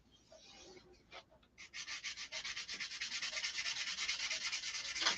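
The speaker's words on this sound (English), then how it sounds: "It's got to be sanded perfectly smooth." A surface sanded smooth by hand with a rapid back-and-forth rasping rhythm that starts hesitantly and then settles into steady, dense strokes, close and fairly quiet, with no talk.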